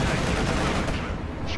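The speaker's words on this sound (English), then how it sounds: "Jagdtiger gets off a nice shot, though" A Jagdtiger tank destroyer fires in a World War II tank video game, a dense, loud blast and rumble that fills the whole moment with no quiet around it.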